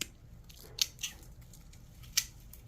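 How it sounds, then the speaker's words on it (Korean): Scissors snip plant roots while a variegated yellow iris is being repotted, a few quiet crisp cuts standing out alone against a soft background hiss. "이렇게 살짝만 잘라주세요"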